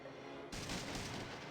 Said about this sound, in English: Oh, he just shot me and Sulik.